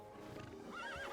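A horse in the Starsand Island farming game snorts and whinnies briefly, close and fairly faint, with game ambience beneath.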